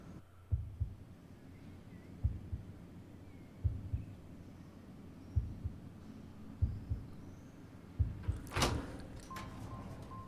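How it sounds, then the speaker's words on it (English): Slow, regular heartbeat thumps pulse in pairs through a quiet ambient bed in the game Harmony: The Fall of Reverie, then a sharp swishing burst as a door opens near the end, followed by a faint sustained tone. "A heartbeat."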